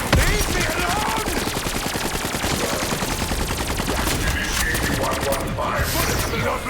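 Rapid automatic gunfire from the Der Eisendrache zombies map, a dense, continuous burst of loud shots in a fast steady rhythm that rattles on for several seconds with no pause.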